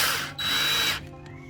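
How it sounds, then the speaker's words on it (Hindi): Power drill driving a screw into an IKEA SLATTUM bed frame: a loud, close whirring drone that dips briefly, surges again for about half a second, then cuts off, leaving a faint mechanical tail. "नीचे वाला जो स्क्रू है अगर तो वो ड्रिल से हो जाता है तो ठीक है"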